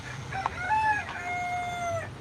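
A rooster crows at an outdoor country flea market, its long drawn-out cock-a-doodle-doo rising and then trailing off over a low background rumble of the surrounding crowd.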